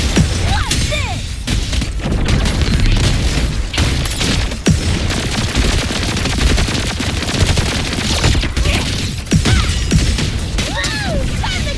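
Grenade blasts and rapid gunfire from the Wuthering Waves Cyberpunk collaboration game, loud and nearly continuous, with repeated booming bursts and crackling shots layered densely over one another throughout.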